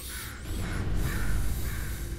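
Repeated harsh crow caws from a bird in the video game Portal 2, sounding over a steady rumbling background hum with a few separate calls across the clip.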